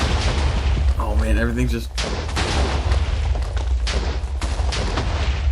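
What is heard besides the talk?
explosion destroying a bomb shelter in a video game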